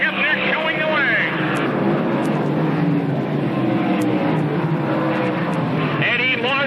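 Modified race cars lapping the Lebanon Valley track in 1995, their engines roaring steadily at a distance under a continuous announcer's voice.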